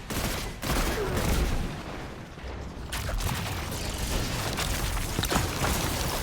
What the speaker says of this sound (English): I like the sound of this gun